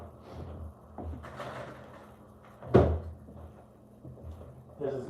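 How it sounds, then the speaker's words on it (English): A door swings shut with one firm thud partway through, a close, loud impact that stands out over quiet room noise, with faint movement and rustling around it. "I better close the door"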